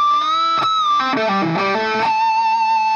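A bright, bell-like artificial (pinch) harmonic on the guitar's D string rings out and sustains, with a few plucked notes sliding beneath it before the tone settles and holds.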